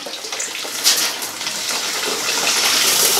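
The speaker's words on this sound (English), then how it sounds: "it flows an amount of water, but then also the spigot leaks an amount of water" Shower water running together with a leaking spigot, fed by an undersized Ecosmart Eco 11 electric tankless water heater; a steady, close, hissing spray continues without pause and without talk.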